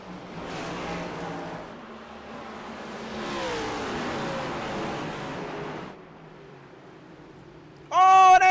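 Race cars in a sim racing game accelerating away on a restart at Sonoma, a sustained, rising engine roar that swells and fades over several seconds, then drops to a low hum before a sharp tonal burst at the end.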